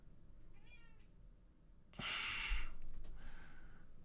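A pet cat named Cease gives a short, quiet meow in a room, followed by a louder breathy puff of sound, near the microphone, with no talk.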